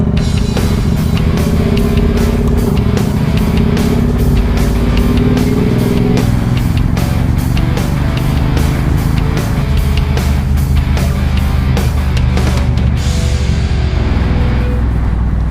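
Steady loud motorcycle engine drone while riding on a road, constant roar with wind rush and a shift in engine pitch partway through, no talk.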